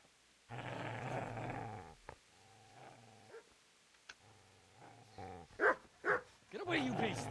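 Dog growling and barking in the medieval game Kingdom Come: Deliverance, a sustained low snarl followed by choppy growls and a burst of louder, sharper barks near the end, with voices talking over the animal.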